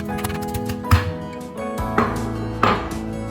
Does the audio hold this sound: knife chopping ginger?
yes